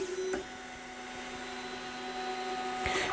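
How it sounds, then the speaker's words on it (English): A 3D printer auto-homing before printing PLA: a steady mechanical motor whine with tonal hum carries throughout as the bed and print head travel to home position, with short clicks near the start and end. "And now the bed will go to the position it needs to, and the printer head will go to its home position."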